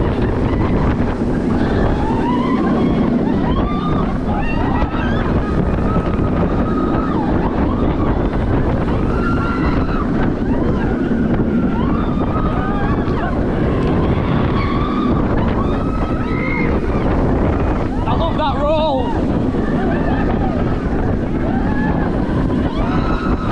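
Fianna Force rollercoaster at Emerald Park, ridden from the back row at the end of the day: loud, continuous wind roar and rumbling track noise rushing past the microphone throughout, with faint voices and screams now and then.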